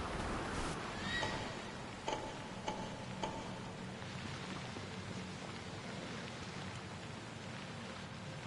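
A sturdy horse in Assassin's Creed Odyssey gives a faint, brief whinny early on, set against a steady wash of rain with a few soft ticking knocks.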